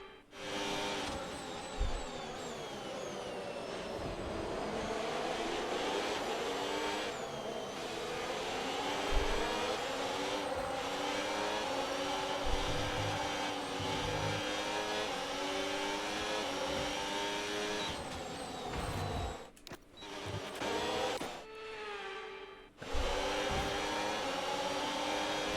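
An F1 race car engine in the F1 26 game, at the Australian weekend, drones steadily with a high whine and a few shifts in pitch, then cuts briefly near the end before coming back.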